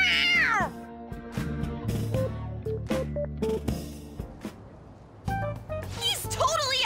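In the Persona 5 Royal video game, a cat meows with rising and falling cries at the start and end, between bursts of game music and voiced dialogue.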